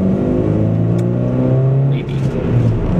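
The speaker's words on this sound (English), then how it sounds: "people will be able to see the traffic behind me" Road traffic passes behind a person speaking outdoors, with a steady engine rumble and vehicles accelerating and whirring by close beneath the talk.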